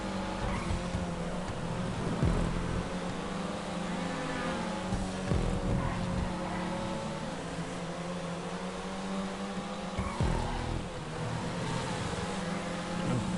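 Race cars in GTA Online GP and rally racing, a continuous droning engine note with rising and falling pitch sweeps as cars pass, with occasional squeals and bumps, loud and steady throughout.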